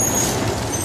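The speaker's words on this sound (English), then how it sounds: "Another truck." A heavy truck rolls past on a city street, its low engine rumble and broadband road roar steady and close throughout, with a faint high hiss that may come from the air brakes.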